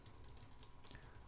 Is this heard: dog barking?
no